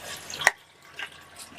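Water drains from bitter gourd peels through a kitchen strainer: a short, close splash and trickle followed by faint dripping.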